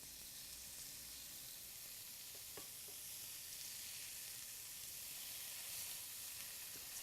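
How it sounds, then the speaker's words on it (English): Pork tenderloin searing in a pan, a soft continuous hissing sizzle that holds steady throughout, quiet and close with a few faint clinks. "while those are searing on the other side"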